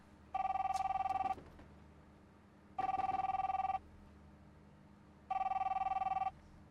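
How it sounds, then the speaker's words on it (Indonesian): A telephone bell rings in three long, evenly spaced bursts with silent gaps between, loud and close, with no one talking over it. "angkat dong teleponnya"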